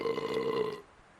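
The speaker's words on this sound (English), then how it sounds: "He belched again, this time longer and louder" A drunk man lets out a long, loud belch that rumbles steadily for most of a second, then cuts off into near silence.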